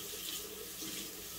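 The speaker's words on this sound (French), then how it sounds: "Donc, je reprends ma lavette que je rince bien." A washcloth is rinsed under a steadily running tap, the water splashing continuously and close by into a sink, with no voices.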